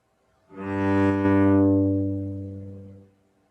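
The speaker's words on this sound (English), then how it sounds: "That's the sound of an acoustic cello." A single low bowed open G note on an acoustic cello swells in, sustains warmly, and fades away, close and alone.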